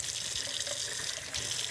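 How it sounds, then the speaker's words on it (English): Cold water runs from a tap and is sprinkled over salad leaves, a steady close hiss of flowing water. "Sometimes a little bit dry, so just a little bit of water sprinkled over them."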